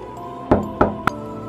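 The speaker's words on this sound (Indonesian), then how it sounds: "Lagi-lagi ada yang mengetuk." Three sharp knocks on a door, the first two close together and the third after a short pause, with quiet room tone around them and no voices.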